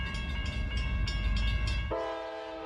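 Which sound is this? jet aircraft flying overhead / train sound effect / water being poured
train sound effect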